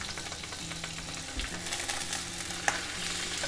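Butter foams and sizzles steadily in a hot pan while a chicken ballotine is basted, with a constant crackling fry and faint stirring or spoon scrapes, no talk.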